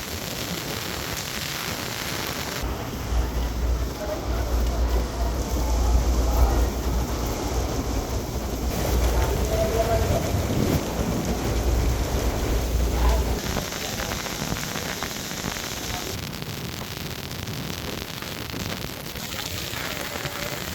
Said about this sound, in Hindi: ऐसी श्रीकार वर्षा यहाँ हो रही है।